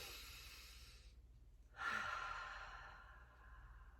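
A single slow breath drawn in, soft and close in a quiet, calm healing session, swelling gently and then fading with no talking.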